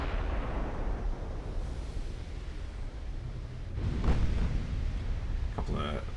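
Naval gunfire and shell hits in a warship video game, with a continuous low rumble of guns under a broadband wash, a heavier impact burst near the middle and a brief crackling hit at the end.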